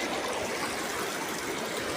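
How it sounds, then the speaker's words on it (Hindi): The ice-cold Mandakini river rushes past on the Kedarnath trail, a dense, steady roar of flowing water that stays close and loud from start to finish, with no voices. "मंदाकिनी नदी है ये, मंदाकिनी नदी का व्यू है ये"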